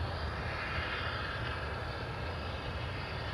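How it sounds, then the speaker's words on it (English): A former British Airways Boeing 767 jet roars steadily at an airport in Miami, a continuous broadband engine rumble with no break. "That's ex-British Airways 767."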